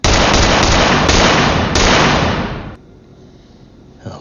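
Rapid volley of loud gunshots in a film scene, a policeman firing at a hospital window, dense cracking bursts for about two and a half seconds before cutting to a quiet room tone with a faint knock at the end.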